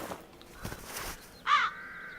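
A crow in the adventure game The Dark Eye: Chains of Satinav gives a single harsh caw over a soft, murky game background, fairly close and clear.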